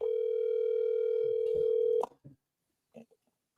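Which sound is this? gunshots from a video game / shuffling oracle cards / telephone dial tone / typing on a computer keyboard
telephone dial tone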